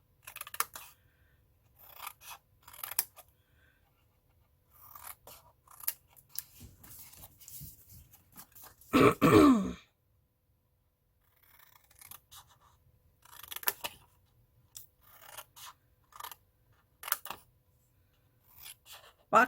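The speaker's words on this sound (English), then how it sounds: "cut out a wedge, and then cut that very straight" Scissors cut a wedge out of a cardboard box: faint, scattered snips and rasping cuts come in short bursts with quiet gaps, and one louder, longer cutting stroke sounds near the middle.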